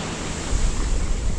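Waves wash onto a small private beach at Spanish Wells in a steady, hissing rush of surf that swells slightly midway, with some wind noise and no voices.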